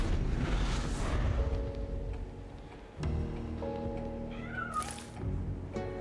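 A cartoonish cat meows in the video game MTG Arena, a short mewing call rising over layered game music and soft chiming effects.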